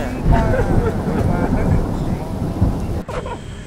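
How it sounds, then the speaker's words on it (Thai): A thunderstorm with steady heavy rain roars continuously at close range, with low rumbling thunder underneath and a voice talking over it. "ฝนตก"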